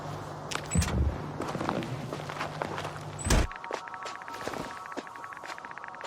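Footsteps in a PC game trailer, a run of crisp steps set among layered game effects and ambience, with a couple of louder impacts punctuating the sequence.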